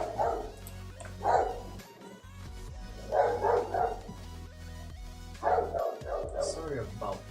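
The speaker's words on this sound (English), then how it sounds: "My neighbor's dog decided to stop barking, and I'm going to close the window." A neighbor's dog barks in bursts from a distance, several short volleys of barking separated by pauses, faint behind the room's steady background hum.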